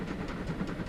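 A train passing in Transport Fever 2, a quiet, steady rumble with faint rhythmic clatter, heard alone and at a distance.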